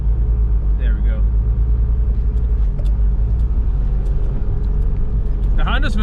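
A Honda car with a manual clutch drives along, its engine rumbling low and steady close by under continuous road noise, with people talking over it.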